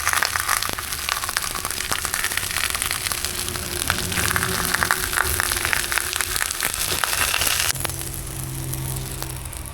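Atta chapati frying in oil in a pan, a steady dense sizzle with crackling pops throughout, close and fairly even, easing slightly near the end.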